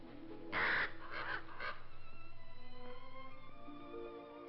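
A bird calls in an old 1948 film: one short, bright cry near the start, then a few fainter calls over a soft, sustained musical drone, with no one speaking.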